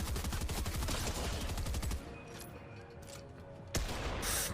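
Rapid automatic gunfire from a weapon in the video game Fortnite rattles loudly in a dense burst, breaks off into a quieter pause, then resumes with another sharp volley.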